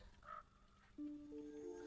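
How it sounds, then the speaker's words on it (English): Birds in a video game let out a short squawk, then a sustained, tonal cry rises and holds, fairly faint against a low background hum. "Oh, this is where the birds went."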